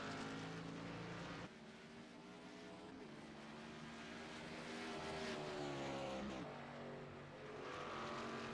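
A race car exiting pit road in iRacing at ISM Raceway, its engine droning steadily with rising and falling harmonic pitch as it accelerates and shifts, fairly quiet and continuous, with other cars' engine noise layered underneath.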